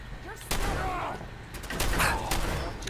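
Combat shotgun blasts in Fallout 4, two heavy booming shots roughly a second and a half apart, each with a sharp attack and rumbling tail, loud and near amid game noise.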